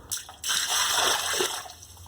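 Water from a bucket pours into a patio sink drain during a leak repair, a sudden loud rushing gush that splashes for about a second and then tapers to a trickle, close up and with no talking.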